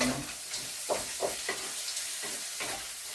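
Food frying in oil in a pan, a continuous bright sizzle punctuated by several short bursts of crackling as it is stirred, close and alone with no talk.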